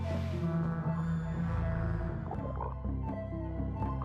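Frogs croak in the video game Paradise Marsh, a dense chorus of low throaty croaks layered over soft ambient game music, steady and continuous.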